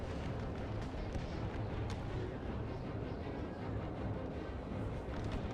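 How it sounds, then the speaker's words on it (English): Massed gunfire and artillery from an American Civil War battle in a video game, a dense continuous roar of distant shots and booms blending into a rumbling wall of noise. "So many guns"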